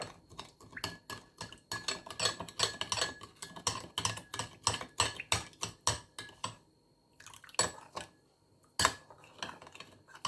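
A metal spoon clinks and scrapes rhythmically against a bowl while ingredients are stirred together for a natural knee remedy, in a steady burst of close taps followed by a few slower, isolated knocks.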